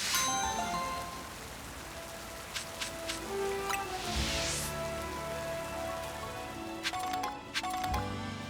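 Steady rain hiss in Pokemon Legends Z-A, a continuous broadband wash with a few soft chimes and game tones ringing over it.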